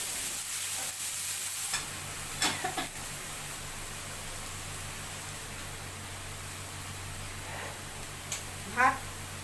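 Onion and tomato paste fries in hot mustard oil for a kabuli chana dish, giving a steady broad sizzle with a few soft stirring knocks and clinks, with no talk.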